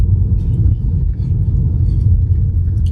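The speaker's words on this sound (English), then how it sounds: "I'll talk about the car that I'm in now. So I am renting a Tesla Model 3." A low, steady rumble from inside a Tesla Model 3 while it drives, continuous and fairly loud.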